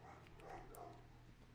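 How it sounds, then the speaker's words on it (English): Dogs barking in the distance, faint muffled barks under a steady background hum, no talk. "Fucking dogs are at it again."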